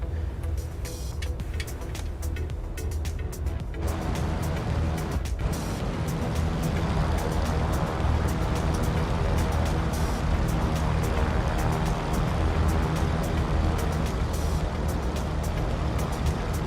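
Twin-engine Cessna 310R in Microsoft Flight Simulator, a continuous loud droning engine rumble that steps up in intensity partway through, with no speech.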